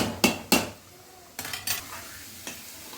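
Spoon stirring soaked rice in a metal pot for veg dum biryani, two sharp clanks then scraping and lighter knocks against the pot, close with faint sizzling beneath.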